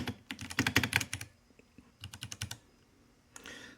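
Typing on a Ducky One 3 SF 65% keyboard with Cherry MX Brown switches, close bursts of quick tactile key clacks in two flurries separated by a pause, then a softer rattle.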